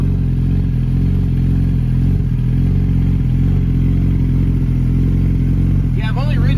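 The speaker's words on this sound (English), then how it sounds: "we're just trying to get the motor a little warm" A Kawasaki ZX10 roll-race motorcycle idling to warm up, a loud steady low engine drone with a rough uneven thrum, close by, with a voice briefly talking near the end.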